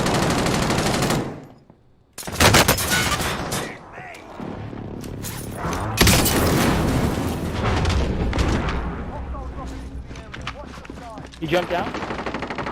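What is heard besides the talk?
gunfire in a video game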